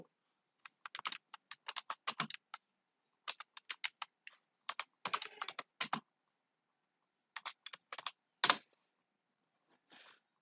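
Keys tapped in quick clustered bursts with short pauses on a keyboard, typing an app name into a Play Store search, close and clear with no talking.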